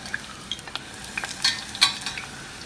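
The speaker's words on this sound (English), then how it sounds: "I want to fry these tortillas" Tortillas frying in oil in a saucepan to soften them, a light, close sizzle with scattered sharp pops and spatters over a quiet hiss.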